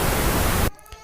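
Pink noise test signal from real-time analyzer software plays as a loud broadband hiss for under a second, then stops abruptly, leaving faint low background.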